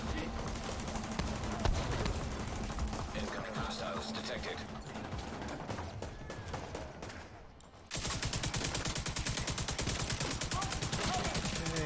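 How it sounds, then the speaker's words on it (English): Gunfire from hostiles targets the player in The Division 2, dense rapid bursts and shots running continuously, loud and close, with a sharp shift to heavier sustained firing partway through. "Who the hell is shooting me from way the hell over there?"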